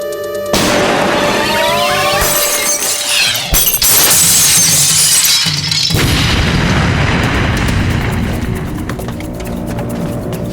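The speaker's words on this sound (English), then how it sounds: "Exploding shell. Hit the glass and went straight through." An exploding shell punches through glass with a heavy boom and a burst of shattering, followed by further crashes and tinkling debris, loud and close.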